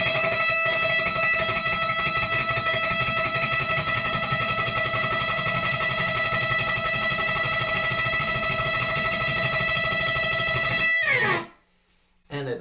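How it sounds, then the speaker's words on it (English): Electric guitar with distortion rapidly tremolo-picking a single high E note at the 12th fret, a continuous loud buzzing stream for about eleven seconds before cutting off abruptly. "I'm going to play E right here at the 12th fret, and we're going to just play this one note as fast as we possibly can"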